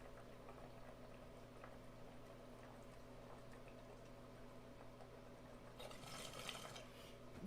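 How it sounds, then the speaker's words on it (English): Close, quiet gurgling bubbles of water in a bong as it is smoked, a steady low bubbling that swells louder near the end. "Let's do big bong rips and talk about stuff."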